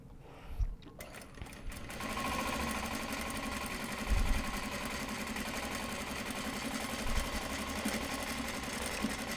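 Sewing machine running basting stitches, a fast, even mechanical whir of needle strokes that starts after a brief quiet moment, close up, with a few heavier thumps along the way.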